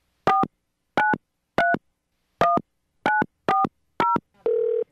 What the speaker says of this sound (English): bear with me as I dial these numbers